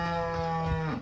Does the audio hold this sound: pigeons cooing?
no